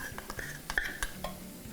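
A whisk works milk into a flour sauce in a pan, giving soft scraping and light metallic taps in an uneven rhythm, close but quiet.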